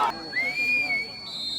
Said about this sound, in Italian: C'è il fischio dell'arbitro.